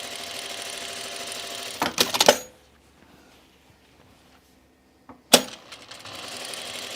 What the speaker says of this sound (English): we're going to do our stay stitch on this neckline of the front as well